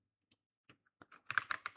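A few scattered keystrokes on a computer keyboard lead into a denser run of fast, close typing near the end, crisp clicks with no voices.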